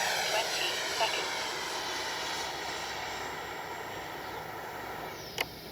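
A Freewing Avanti S V2 RC jet flies overhead as a steady, fairly loud turbine-like whine and rush that holds across the whole stretch, with a brief sharp click near the end and faint voices in the background.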